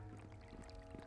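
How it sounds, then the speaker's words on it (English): Rushing, gurgling water like a toilet flushing in the video game Swordflight, a steady wash of sound lasting about a second. "That's the sound of flushing the toilet, really."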